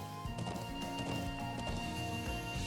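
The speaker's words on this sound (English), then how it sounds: "How to ride a horse." Horse hooves galloping in the Trails of Cold Steel video game, a steady rapid clip-clop rhythm running throughout under layered game music, fairly loud and continuous.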